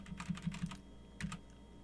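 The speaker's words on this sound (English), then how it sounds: "First thing I'm going to do is come in here and type in a text box." Typing on a computer keyboard into a text box: a short burst of five or six quick, close key clicks, a brief pause, then two more taps, fairly quiet and with no talking.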